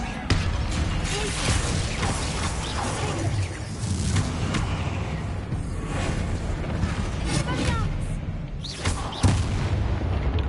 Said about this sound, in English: I like to explode it.